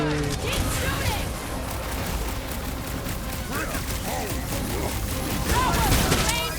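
Sustained gunfire and blasts in Marvel's Guardians of the Galaxy video game on PS5, a continuous loud barrage of shots and impacts with characters shouting over the combat.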